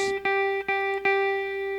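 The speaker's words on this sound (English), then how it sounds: "on this first string, the E string, I want you to play that note with me" An electric guitar note on the high E string, third fret, picked repeatedly, about four even plucks, each ringing with bright overtones, steady and clear with no talking.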